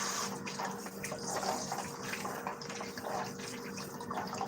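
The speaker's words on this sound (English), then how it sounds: "I lost the washer for this, so the water comes out in very full force" Water gushing at full force from a tap that has lost its washer, a steady, close splashing rush that keeps going with small surges throughout.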